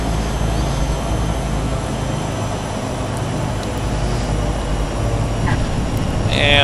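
Turbine Duke aircraft engine in a flight simulator, a steady, loud turboprop drone holding even throughout, with a faint rising whine entering near the end as power is added, no voices over it.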